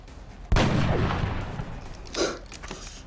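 A single booming sniper rifle shot in the tactical strategy game XCOM, loud and sudden with a long rumbling decay, followed by a smaller secondary impact about two seconds later.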